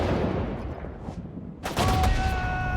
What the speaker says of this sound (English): those coaxials should be firing off non-stop